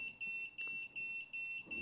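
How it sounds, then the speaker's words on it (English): A ThermoPro TempSpike II low-temperature alert sounding from a smartphone: a steady series of high electronic beeps, each about a third of a second long, repeating evenly and fairly loud, with no talking. "so I'm getting an alert on that particular alarm"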